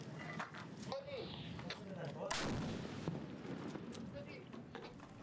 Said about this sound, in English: ISIS mortars close in. Up on the roof, ISIS snipers pin them down.